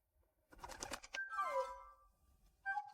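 A little bird chirps and trills in short tonal bursts, with some soft tapping and rustle nearby, fairly close and moderately loud, without speech.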